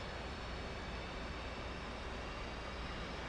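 The right engine of a twin-engine aircraft in the DCS World flight simulator spools up near 18% RPM, producing a steady, broad whooshing roar that stays even throughout.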